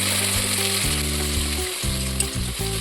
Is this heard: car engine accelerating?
no